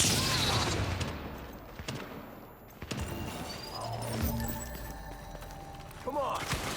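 Video game combat with bursts of gunfire, thumping impacts and booms scattered across the stretch, mixed with shouted voices over the action.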